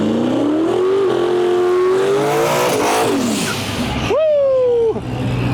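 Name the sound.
Turbo LS Ford Ranger drag racing at a no prep shootout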